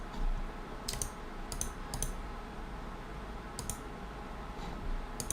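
Sharp mouse clicks come in small bursts over a steady low hum while someone plays AQW, an online computer game. The clicks are close and fairly quiet, grouped in pairs and short runs with gaps between them.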